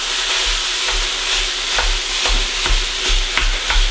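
Ground beef hamburger fries in a pan for Mongolian beef noodles, a steady loud sizzle broken by repeated stirring scrapes and clacks at an uneven rhythm, close by with no talk.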